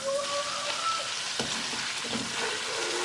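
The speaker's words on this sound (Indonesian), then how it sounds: "Kalau misalnya sudah panas, kita mau goreng terlebih dahulu cuminya" Squid fries in hot oil in a wok with a steady, dense sizzle and crackle, close and even, a few stirring scrapes rising through it, no voice over it.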